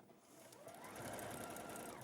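A sewing machine runs at high speed stitching a quarter-inch seam, a steady close whirring hum that ramps up and holds evenly throughout.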